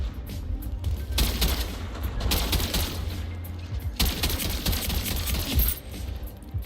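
Rapid gunfire fills a first-person shooter match: dense overlapping bursts and volleys crackle loudly and continuously, with sharper flurries swelling every second or two.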